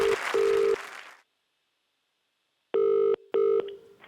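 A telephone rings on a live phone call in two bursts of the electronic ring tone, with a pause between them. A hissy noise opens the clip before the first ring.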